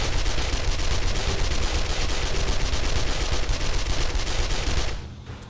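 Rifle gunfire in the video game 5 Days to Die: a dense, loud, continuous barrage of rapid shots that cuts off near the end.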